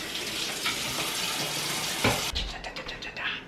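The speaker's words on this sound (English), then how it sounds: "Don't forget to wash your hands" A kitchen tap runs steadily while hands are washed, with a continuous splashing rush that breaks into brief clattering splashes near the end and no voices.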